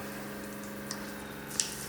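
Water runs steadily from an overland trailer's outdoor shower, a quiet continuous hiss with a faint pump hum and a couple of small splashes.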